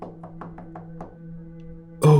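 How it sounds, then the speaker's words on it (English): A quick series of about five frantic knocks on a door, close and distinct over a low steady hum, ending with a sudden loud burst. "Early the next morning, however, she knocked frantically on his door."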